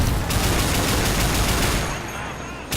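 Dense gunfire in the World War II strategy game Men of War Assault Squad 2 during a forest battle, a continuous loud rattle of overlapping shots and bursts that thins out toward the end.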